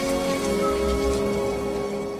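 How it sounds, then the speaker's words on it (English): Heavy rain pours steadily in a dark film scene from The Crow (1994), a loud continuous hiss of drops hitting surfaces with a low rumble beneath and no voices. "I wish the rain would stop just once."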